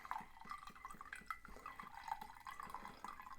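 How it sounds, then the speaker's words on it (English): A cocktail is poured slowly, giving a faint, steady trickle with soft, irregular drips close by and no talking. "we're just going to do a nice slow pour"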